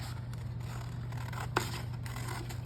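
Scissors snip through paper pieces for a handmade autumn folio pocket card kit, a few quiet close cuts with one sharper snip standing out over a low steady hum.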